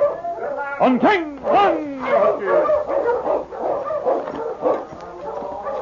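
A sled dog team on the Yukon trail barks, yips and howls in a staged radio-drama scene, loud and close, while someone shouts commands to the dogs.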